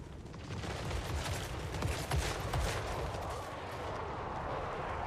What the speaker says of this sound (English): Let's shoot that corpse cart